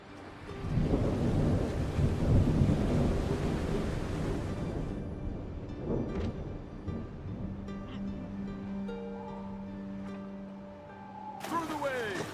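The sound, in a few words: stormy ocean waves from a video game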